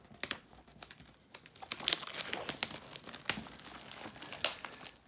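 Packaging of a Rambo First Blood collector box set crinkles and tears in irregular bursts of plastic and paper rustling, close and fairly quiet, with no talking.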